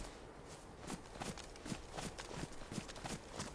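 Zombie footsteps in DayZ on the cold Namalsk map, a faint, quick run of soft repeated thuds about four per second, steady and close.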